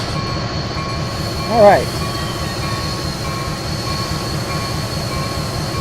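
Locomotives in the train simulator Railworks rumble with a steady low drone and a brief rising squeal midway, heavy mechanical noise throughout as a voice speaks briefly.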